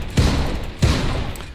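Two heavy tank cannon shots from Tank Game, each a loud, close, booming blast with a short rumbling tail, spaced under a second apart, no talk.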